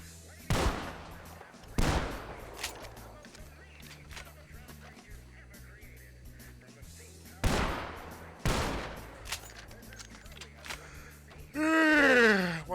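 Gunshots ring out in a Wild West roleplay video game, loud sharp reports with long echoing tails, two close together, then a pause, then two more, with a brief voiced gasp or whoosh at the end.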